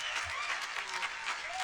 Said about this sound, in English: give me some hand claps for Bree real quick